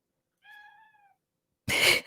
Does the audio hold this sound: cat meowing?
yes